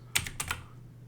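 Number keys tapped on a computer keyboard in quick succession, a handful of sharp plastic clicks close up with no talk.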